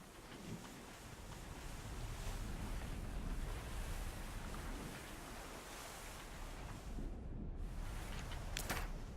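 Steady wash of ocean waves and wind surrounds a sailing ship in the Abandon Ship video game, a continuous low, even roar with no voices.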